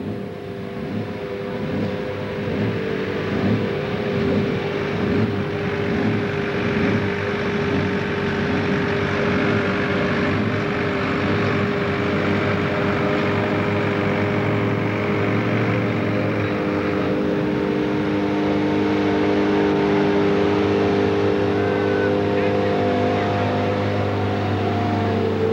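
Pulling tractor engine at a 1995 Bluegrass Pulling Series tractor pull in Central City, Kentucky, a loud sustained roar with a pulsing, throbbing rhythm early on that settles into a steady heavy drone.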